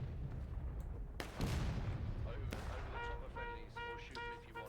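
Musket volleys crack out in a Civil War video game battle, with sharp gunfire bursts and rolling booms over a noisy battlefield, and brief tonal horn-like calls toward the end.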